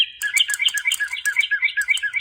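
An electronic toy bird worn on the wrist chirps loudly at maximum volume, giving a rapid, repeating series of bright, trilling tweets that runs steadily and close throughout, with no voices.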